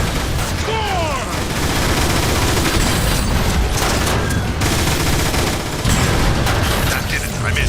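Rapid blaster fire and impacts in Transformers: War for Cybertron as power cells are shot, a loud, steady barrage of sci-fi gunshots with metallic mechanical clatter throughout and no clear pauses.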